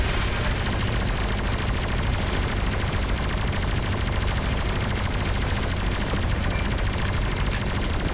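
Relentless turret gunfire from a spaceship in the space combat game Everspace 2, a loud, dense stream of rapid shots and blasts that runs unbroken from start to finish.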